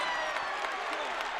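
At a men's college basketball game between Miami RedHawks and Kent State, a crowd roars and applauds in a steady, fairly faint wash, with a commentator talking over it.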